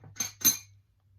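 A delicate, clear glass Nordic mug with a star-cut pattern clinks twice in quick succession, each a light, bright tap close by.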